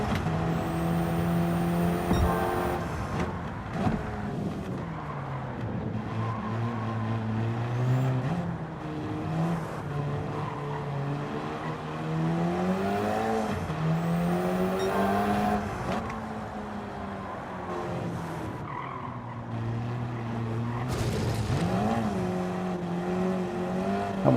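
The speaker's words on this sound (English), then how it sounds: "This KTM does not want to stop. Need to brake a lot earlier." KTM race car in Gran Turismo 7 driving hard and braking: the engine note climbs and falls through repeated gear changes and decelerations, loud and continuous, alone without talk.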